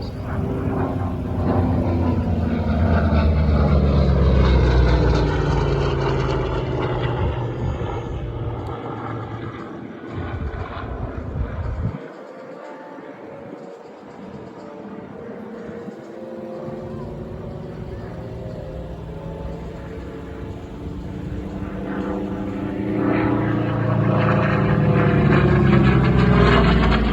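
A Corsair propeller fighter flies at the Belleville/Ypsi airshow at Willow Run Airport. Its loud, droning engine rises and falls as it passes, dips briefly, then swells again, with an announcer talking over it.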